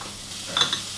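Broccoli and two cloves of grated garlic cooking in butter in a pan give a soft, brief sizzle with a couple of quick stirring scrapes near the middle, close and fairly quiet.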